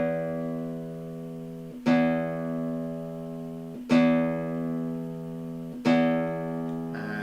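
A guitar's low E string is plucked three times at even intervals for tuning, each note ringing out and slowly fading before the next pluck.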